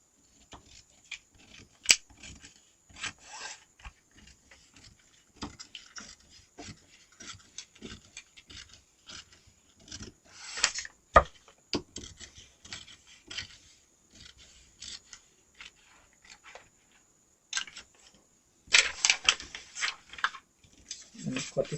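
Scissors snip and rasp through paper while cutting out a drafted skirt block pattern, with irregular bursts of close cutting and rustling and quiet pauses between them.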